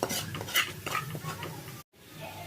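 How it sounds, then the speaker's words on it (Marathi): Homemade onion-garlic masala with coriander-cumin powder sizzles in hot oil as a spoon scrapes and stirs the pan in quick strokes, close and busy, then cuts out abruptly before a quieter sizzle resumes. "आता हे छान तेलामध्ये आपल्याला परतवून घ्यायचं"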